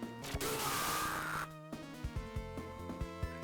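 Glass breaks in a Sailor Moon video game: a sustained bright shattering crash, then a run of punchy thuds and knocks over a steady musical drone, close and loud.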